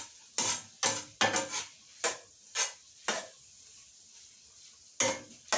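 Ground meat browning in a pan for spaghetti sauce, with sharp spatula scrapes and stirring clatters in an irregular rhythm over a soft, steady sizzle, close up and with no talk.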